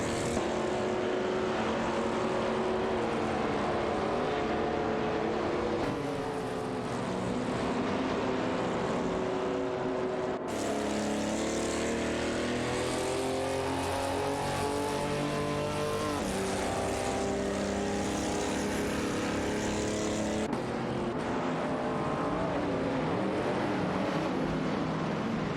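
Race car engines in a simulated race between a Lancia Stratos Zero and a Holden Monaro, a continuous loud roar with rising and falling pitch as gears shift and cars pass, constant throughout.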